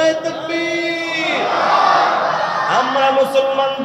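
A large crowd at a Bangla Islamic sermon gathering in Barishal shouts the takbir back at the preacher, a loud massed roar of voices that swells and holds for a few seconds.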